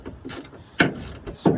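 A ratchet wrench with a 10 mm socket loosens bolts near the radiator while a car headlight is being removed, giving three short bursts of rapid metallic clicking that stand out clearly with no voices.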